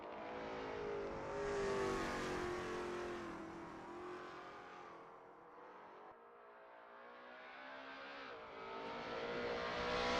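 Lola T70 MkII Spyder race cars at Road America in a racing video game, engines droning steadily with rising and falling pitch as they run laps, loud and continuous throughout with no talk.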